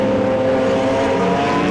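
Continuous loud engine roar of BMW M Performance Parts Race Series cars running close together on a circuit, a steady droning howl with no break.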